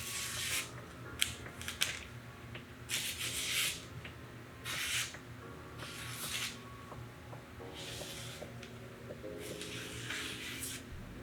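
A freshly sharpened Ken Onion Shun knife slices through paper in a series of quick, crisp swishes, about seven short strokes spaced irregularly, fairly close and quiet.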